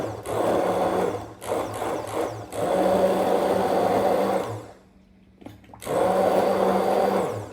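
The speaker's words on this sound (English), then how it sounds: "So I'm gonna go ahead and give this a blend." An immersion blender whirs in a jar of salsa ingredients with onions and garlic, a loud steady motor drone in long bursts that briefly cuts out near the end before starting up again, close with no talking.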